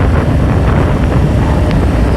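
A boat engine runs with a steady, loud, unbroken roar, heavily buffeted by wind rushing across the microphone.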